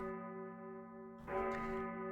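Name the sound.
bell marking the game ending, from video game Vampire Survivors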